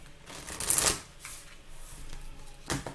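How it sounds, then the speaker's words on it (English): Tarot cards being shuffled by hand for a reading: a dense riffling burst near the start, then softer rustling and a second brief riffle near the end, close up and with no talk. "So let's do a good shuffle for her."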